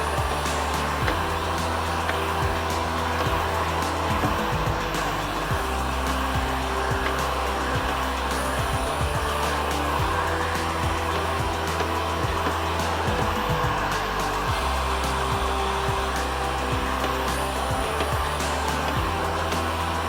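A heat gun blows a steady, loud whooshing roar while it shrinks window tint film on a Corvette, the hot-air hiss running unbroken for the whole stretch with faint rattles underneath.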